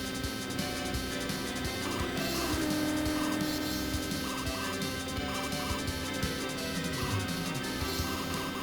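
Motorbike racing in the arcade video game Super Hang-On: a steady, loud engine drone with game music and tire noise running continuously throughout, no voice.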